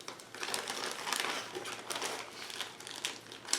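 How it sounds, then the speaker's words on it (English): Heavy-duty aluminum foil crinkles and crackles close up, a dense continuous rustle with small sharp peaks, fairly quiet and with no talking. "I've got some aluminum foil,"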